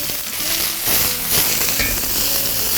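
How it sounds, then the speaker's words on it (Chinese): Ginger, garlic, scallion, green and red peppers and onion stir-frying in a little oil in a wok, with a loud, steady sizzle and crackle running unbroken throughout. "我们下入这个姜蒜片还有葱段，给它爆香一下，青红椒。"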